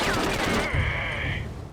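Rapid gunfire from SOCOM U.S. Navy SEALs, a quick burst of close shots followed by a ringing tone and trailing echo, short and loud.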